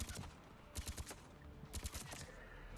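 Gunfire in Mass Effect 3 on the Palaven moon mission at Insanity difficulty: short bursts of sharp, rapid shots in two clusters separated by a brief lull, fairly quiet under the game's background noise.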